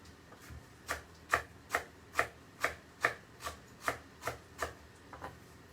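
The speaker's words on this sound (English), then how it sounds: "so I'm just chopping up another little bunch of coriander" A knife chops a small bunch of fresh coriander on a board, about a dozen crisp, evenly spaced strokes in a steady rhythm, close and fairly quiet with no voices.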